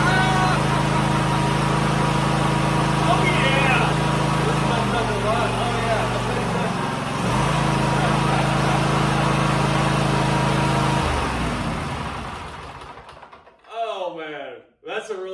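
Kohler Courage SV740 engine on a Cub Cadet GTX 1054 lawn tractor runs steadily nearby, its loud low drone shifting pitch briefly as it idles, then cutting off near the end as someone talks over it.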